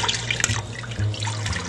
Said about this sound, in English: we'll put a little water in the can to get the rest of the bits of the tomatoes out